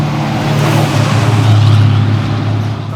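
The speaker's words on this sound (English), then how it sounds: "that right there is known as the reggae bus. It plays reggae music" A reggae bus on Barbados rolls past with a steady engine rumble that swells and fades, loud and close against road noise.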